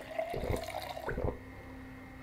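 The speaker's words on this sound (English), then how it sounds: "I can drink more water for sure." A character drinks water in the zombie survival game Project Zomboid, heard as a few soft liquid gulps and splashes, quiet and close, with no talking.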